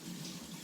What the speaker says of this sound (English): I'm gonna wash my hands first though because they're gooey